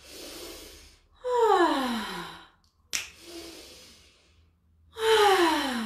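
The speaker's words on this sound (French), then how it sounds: "Ça peut être expulsé aussi vraiment par une respiration qui va chercher loin dans le corps et qui expulse à fond" Deep, forceful exhalations during a breathing and energy exercise: two long, loud, descending, voiced breaths pushed out fully, separated by quiet and a single sharp click, with no speech.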